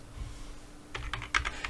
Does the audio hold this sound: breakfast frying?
no